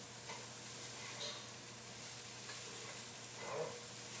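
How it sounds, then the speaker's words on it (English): Rice shallow-frying in a pan gives a faint, steady sizzle, with soft scraping as it is stirred, quiet and continuous. "So it's shallow fry, so that each ingredient stays apart."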